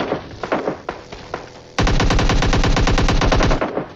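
Shotgun blasts in the PUBG Mobile battle royale game, a fast burst of loud, close shots in a steady rhythm lasting about two seconds, following quieter scattered gunfire and movement noise.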